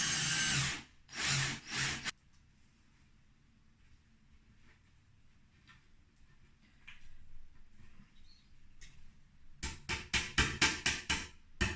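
A power drill drives screws into cupboard doors during home DIY, with loud whirring bursts at the start and a run of rapid pulsing revving near the end, separated by quieter handling noise.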